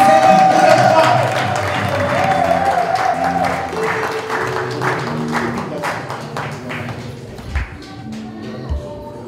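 A church congregation at a wedding applauds, sustained loud clapping from many hands with cheering voices mixed in, tapering toward the end into scattered claps.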